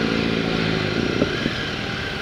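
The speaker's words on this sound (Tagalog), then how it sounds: "Tindi ng big bike." A big-bike motorcycle of roughly 1000cc passes on a road in Cavite, its engine a loud, steady drone with a slight rise, mixed with road and wind noise and a few clattering knocks.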